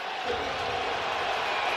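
Roar of a large stadium crowd during the NFL NFC Championship Game at the Los Angeles Rams' home field as the Rams have the ball, a dense, steady wash of noise.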